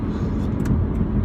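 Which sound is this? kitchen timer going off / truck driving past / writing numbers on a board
truck driving past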